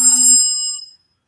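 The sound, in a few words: mobile phone ringing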